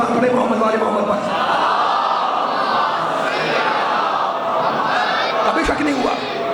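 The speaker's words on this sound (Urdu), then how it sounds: "اس سے بھی بلند سلوات پڑھے محمد والے محمد پر." A large crowd at a Muharram majlis in Lahore chants salawat together, loud and sustained, a dense mass of overlapping voices in unison.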